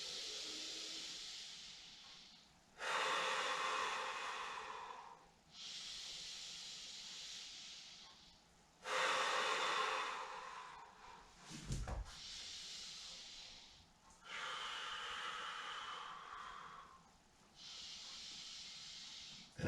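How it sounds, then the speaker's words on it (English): Slow, deep breaths during a gentle stretching exercise: about six long, airy inhales and exhales, close and steady, spaced a few seconds apart, with no talking. "And also breathe deeply."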